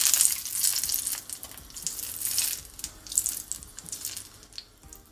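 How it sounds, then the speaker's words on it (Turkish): Butter melts in a hot pan for İskender sauce, giving a hissy, crackling sizzle that swells and fades in uneven bursts, close up and moderately loud, with no one speaking. "Kızgın tavaya tereyağı ama dikkat edin yağ yakmayalım"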